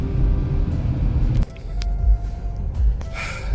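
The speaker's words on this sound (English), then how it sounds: "Tuscaloosa traffic" Car traffic rumbling along a Tuscaloosa road, steady low engine and road noise heard from inside a vehicle, moderately loud with passing swells and no talking.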